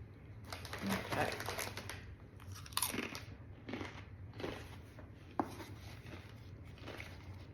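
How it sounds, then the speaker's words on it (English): Someone eats snacks, producing repeated crisp crunching bites and chewing at close range. The bites come in irregular bursts, with sharp clicks and soft gaps between them. "I chew snacks on camera when I talk"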